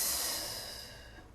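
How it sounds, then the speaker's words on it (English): A single big exhale during a yoga core exercise, a breathy airy rush that starts strong and tapers off over about a second, close to the mic with no talk. "Big exhale, opposite leg."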